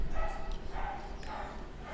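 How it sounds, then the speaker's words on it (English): Dogs barking outdoors in the background, somewhat distant and muffled, a few yips and barks blending into steady room noise. "I got fucking dogs barking all over the place here"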